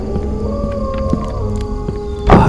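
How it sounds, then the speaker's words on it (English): Long tonal animal cries, like wolves howling in a forest at night, with several drawn-out wavering calls overlapping over a steady low rumble, ending in a louder burst of broadband noise. "I hide in my cabin from the sound of wolves"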